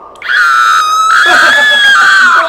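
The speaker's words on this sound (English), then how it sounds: "You can hear the little scream." A loud, shrill scream held for about two seconds, wavering slightly in pitch, close and alone.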